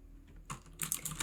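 Keystrokes on an Aukey KM-G12 mechanical keyboard, a quiet lull followed by a quick run of sharp, solid clacks, faint and close, without speech.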